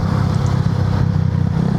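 A United CCR 150 motorcycle's exhaust gives a loud, steady, throaty rumble that holds evenly from start to finish, close by with no voices.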